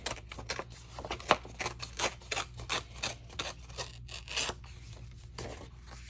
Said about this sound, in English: Now, if you tear towards you